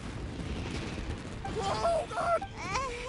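Fireworks bursting in a video game, a run of sharp cracking pops and booms rising over a noisy bed, with game voices chattering in between.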